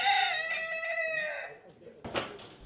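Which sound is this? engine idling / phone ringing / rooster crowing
rooster crowing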